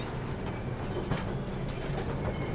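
Steady rumble and rolling hum of a Jabalpur–Mumbai Garib Rath Express pulling out of Igatpuri station in hilly country, with faint high wheel squeals drifting over the continuous low noise.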